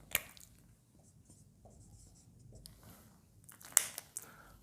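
A pen scratches out an integration problem in soft, intermittent strokes, quiet and close, with a couple of sharper scrapes near the end.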